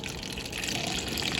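Water runs steadily from a tap, a continuous close rushing gush like a container filling, with no talk over it.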